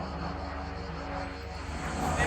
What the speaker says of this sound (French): alors maintenant c'est un avion